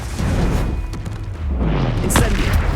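A Confringo spell blast in Hogwarts Legacy lands as a loud, booming explosive burst, followed by a sharp crackling pop that fades out, with no talk over it.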